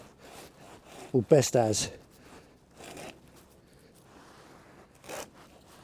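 A blade cuts slowly along a taped line through a Volvo Penta wet exhaust hose on a TAMD 41-P engine, making soft intermittent rasping and scraping close by, with someone talking briefly.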